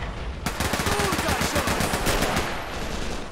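Soviet gunfire rattles in the Men of War: Assault Squad battle, rapid machine-gun bursts firing continuously and loudly in a dense crackling stream, with no talk.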